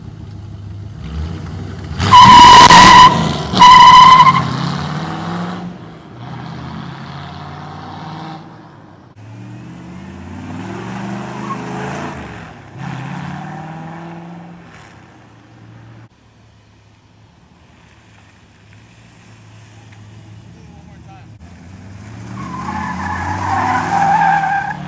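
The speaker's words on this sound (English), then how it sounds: "We're gonna do one of me just, you know, peeling off right now, just taking off." A Ford Foxbody Mustang peeling off, tires shrieking loudly for a few seconds up close, then the engine revving and fading into the distance before swelling back toward the end.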